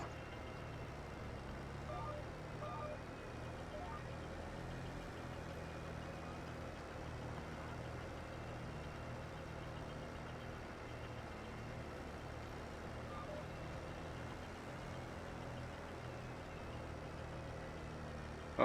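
Tractor engine in Farming Simulator 22 straining as it pulls a rock picker, a steady low droning rumble throughout, constant and moderately quiet with no change in pitch.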